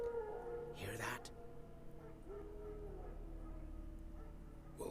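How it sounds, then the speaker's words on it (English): Wild dogs howl faintly in the distance in the fantasy video game The Witcher 3: Wild Hunt, partly masked by characters talking over game ambience. "Wild dogs. Yes. More dangerous than wolves."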